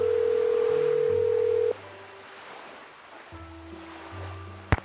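A telephone in the Nancy Drew game Danger on Deception Island dials out: a loud steady dial tone, then a run of short tonal dialing beeps with a click at the end, with no talking.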